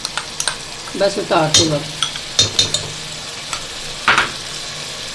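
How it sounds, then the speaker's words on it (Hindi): Bean mince fries in desi ghee, a soft sizzle underneath as a spoon scrapes and clacks against the pan in quick irregular strokes, with a short spoken phrase partway through. "और इसको अब भून लेना है। एक चम्मच देसी घी डालना है"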